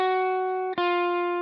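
A clean, undriven electric guitar lead on the B and D strings, washed in chorus, delay and reverb, sustains one bright ringing note with a brief dip before the tone swells back and holds steady.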